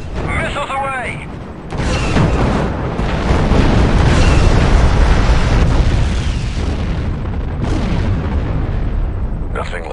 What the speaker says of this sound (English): Target acquired. Target locked. Missiles away.